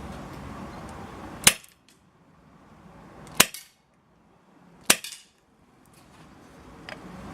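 A Cybergun Colt 1911 replica pistol fires three sharp, cracking shots with no suppressor, spaced a second or two apart. Each shot is followed by a brief ringing tail against low background noise.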